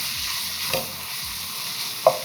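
Beef mince with onions and spices frying in a pan, a steady close sizzle broken by a few scraping stirs and one sharper knock near the end.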